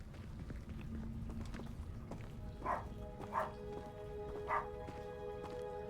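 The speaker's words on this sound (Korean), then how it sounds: "강아지가 왜 이렇게 짖지?" A dog barking in the video game Hogwarts Legacy, three separate barks spaced about a second apart over a busy, rumbling background with footsteps and scattered game sounds.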